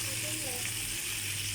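Fish fries quietly in a pan, giving a faint, steady sizzle that continues without a break.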